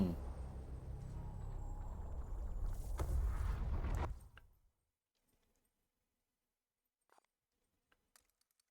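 A spaceship engine rumbles in Warhammer 40K: Chaos Gate - Daemonhunters, a deep, loud drone that swells, then cuts off abruptly into near silence broken by a few faint ticks.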